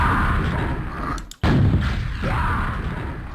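A video game rocket launcher fires in heavy, booming blasts, with a sharp cutoff and a renewed roaring explosion midway, loud and close.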